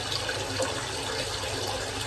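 A large bowl being filled with water from a tap, a steady broadband rushing and splashing that runs continuously without talk.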